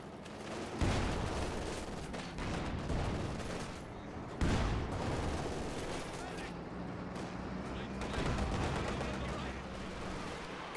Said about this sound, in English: Katusha firing on the center.